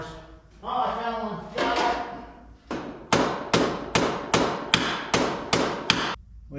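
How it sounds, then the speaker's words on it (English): A hammer tapping on a metal part during a repair, first as a ringing scrape and then as a steady series of about ten evenly spaced, sharp metallic strikes, loud and close, with no talking. "when I find a hammer, I'll tap on this"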